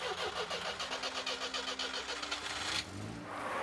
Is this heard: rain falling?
no